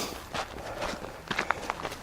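Quick running footsteps hit a hiking trail in a steady rhythm, close and fairly loud, with a few sharper footfalls near the end and no voices.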